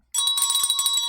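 A bell rung at an outdoor stone auction, a sudden bright sustained metallic ringing with a fast rattling trill that starts abruptly and carries on steadily and loud, with no voices heard.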